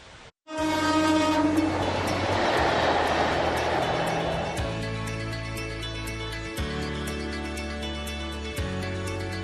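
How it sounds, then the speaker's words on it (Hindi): A Vande Bharat Express train passes through mountainous terrain with a loud horn blast at the start, then a sustained rumble of wheels and carriages, with rhythmic clunks over rail joints as it moves along. "ऊंचे ऊंचे पहाड़ों के बीच रफ्तार से बातें करती ये ट्रेन"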